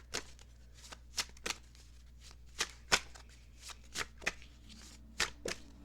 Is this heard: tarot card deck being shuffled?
yes